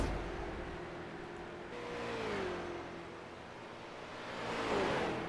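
A race car in the iRacing simulator spinning out, heard as engine whine and revving that swells and falls in waves, moderately loud with no voices.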